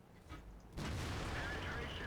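A tank cannon shot from the T110E3 in World of Tanks, fired on the Abbey map and striking an enemy tank's track: a sudden heavy boom, then a sustained rumbling tail, close and loud.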